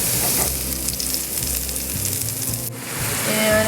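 Mushrooms frying in a pan over a van stove, giving a loud, continuous sizzle with soft stirring rustles throughout, and no voices.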